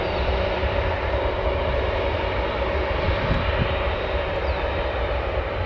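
A British Airways Boeing 777-200 with GEnx engines rolls for departure, its jet engines producing a loud, steady, broadband roar that stays constant throughout.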